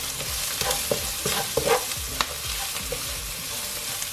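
Ground cumin and other spices toast in a hot pan for chicken tikka masala, sizzling steadily under repeated scraping stirs of a utensil, close and fairly loud with no talking.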